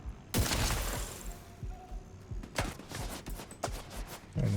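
Video game gunshots, a loud crack near the start followed by a scattered run of sharper shots and clatter, irregular and fairly close.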